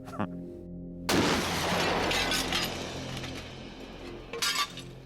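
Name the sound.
glass shattering when hit by a bullet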